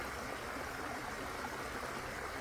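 Waterfall footage plays through a single Bluetooth speaker as a steady, faint broadband rush of falling water, continuous and unbroken with no voices.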